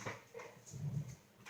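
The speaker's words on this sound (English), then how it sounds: "My dog is trying to get in the middle of it." A pet dog whimpers in a few soft, short whines, close by in a quiet room, with low rustling beneath.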